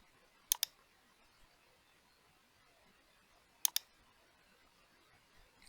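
Two crisp double clicks of a computer mouse while working in CAD software, a few seconds apart, close and sharp against a quiet background.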